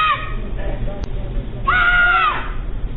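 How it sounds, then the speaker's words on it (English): Frantic, high-pitched screams ring out from people during a downtown Las Vegas building fire, picked up by a neighbor's Ring doorbell camera, two sharp cries, tinny and compressed, over a rumbling background. "A neighbor's Ring camera captures screams for others possibly still inside."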